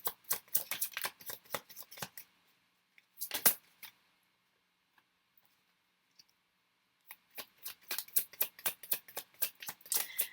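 Playing cards handled on a table, with bursts of quick crisp flicks and snaps, then a quiet pause broken by a few faint clicks before brisk card handling resumes, close and fairly soft.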